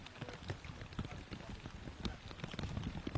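Steady rain patters and spatters on a disc golf course during a tournament round, a constant close wash of drops with scattered sharper taps, while commentators talk quietly over it.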